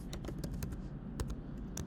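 Fingers type rapidly on a computer keyboard while entering data into a spreadsheet, producing a close, uneven patter of light plastic key clicks with occasional louder taps.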